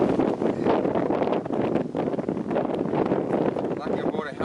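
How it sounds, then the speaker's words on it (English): Steady roaring wind buffets the microphone on a bushland descent in the Wollemi, constant and loud throughout, with faint rustling beneath. "Oh, how's that wind picking up?"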